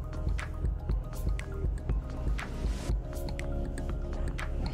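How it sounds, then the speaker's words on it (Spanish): Soft squishy, drippy scraping of a spatula pushing chopped fish stock ingredients down the sides of a Thermomix bowl, several small wet strokes close by, with no talking. "con la espátula baje los ingredientes hacia el fondo del vaso"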